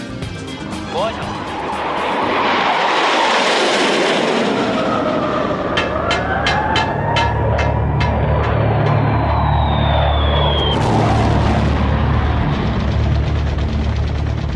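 A Su-24 frontline bomber jet gives off a loud, sustained roar that swells and holds with a deep rumble, and a voice speaks over it.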